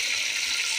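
Water poured into a pan of cooking tomatoes and green chillies, a brief steady splashing gush with no talk.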